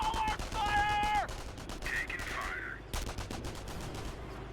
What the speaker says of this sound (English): Taking small arms fire.